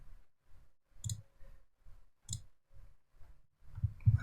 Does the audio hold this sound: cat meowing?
no